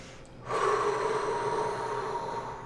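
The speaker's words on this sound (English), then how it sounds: "So you take some nice deep breaths." A person takes deep breaths during a rib stretch: a long, steady, close airy breath starts suddenly after a short quiet pause and continues evenly to the end.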